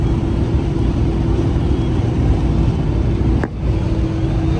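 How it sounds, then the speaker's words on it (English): A Kenworth truck's engine fan clutch stuck on and running full blast gives a loud, steady roaring drone with a constant low hum, unbroken apart from one brief dip near the end, and no talking. "the fan clutch has been on the whole time."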